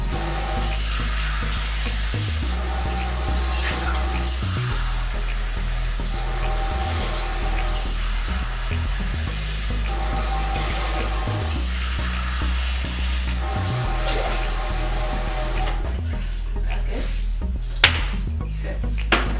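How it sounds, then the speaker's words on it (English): Water poured into a pot for making ramen at home, a steady, close rush of liquid with a low, sizzling hiss that runs continuously, ending with a few sharp clatters. "I put about 4 cups of water in your pot"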